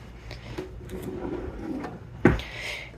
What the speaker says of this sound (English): This is our junk drawer / utility drawer.